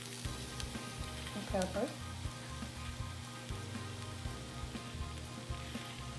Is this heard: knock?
no